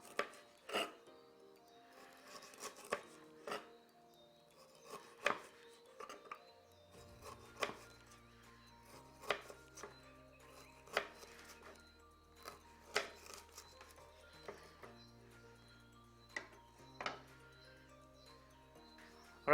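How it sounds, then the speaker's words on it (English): A knife cuts a sardine into thin chops on a board, with sharp, evenly spaced chopping taps, close and distinct, and a low hum underneath. "take another sardine and I'm going to cut little thin chops"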